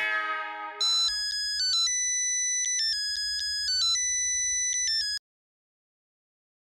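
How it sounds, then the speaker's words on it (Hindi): A phone rings with a melodic electronic tone playing a repeating pattern of notes, preceded by a brief musical sting and followed by silence when it stops. "रोशन सिंह सोडी फोन घुमा।"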